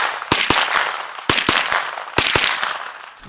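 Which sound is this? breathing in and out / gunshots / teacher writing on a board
gunshots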